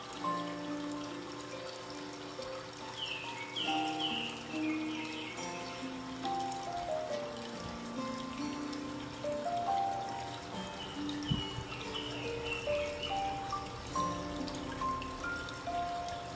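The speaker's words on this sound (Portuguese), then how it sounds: "Olha que gostosa a água no seu corpo." Water flows and trickles over a bather's body in a calm sea, a soft continuous watery dribble with gentle splashes, heard alone and fairly faint.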